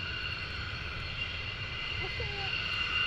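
F-15C military jets taxi at RAF Lakenheath with a steady engine drone and a high whine. The sound is continuous and fairly loud, with a faint pitch-shifting tone near the end and no clear talking on top.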